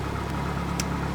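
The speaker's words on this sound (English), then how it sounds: "So, engine started." A flight simulator aircraft engine runs steadily just after starting, a dense, loud constant drone with an even hum and no breaks.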